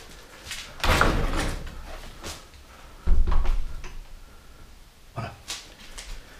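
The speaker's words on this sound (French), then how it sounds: "je vais fermer cette porte" An interior door is pushed shut, with a few knocks and handling sounds before one firm, close thud of the door closing, followed by fainter rattles.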